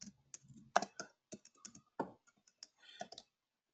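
Computer keyboard typing, heard alone and close, as irregular bursts of crisp key clicks with brief pauses between words.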